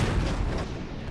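A tank cannon fires in the World of Tanks video game, with a Leopard 1 tank involved: a single heavy boom that opens loud and fades into a rumbling decay over about a second.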